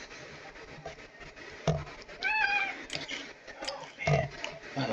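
A house cat gives a couple of short meows amid handling noises and rustling, close by, with a person briefly speaking.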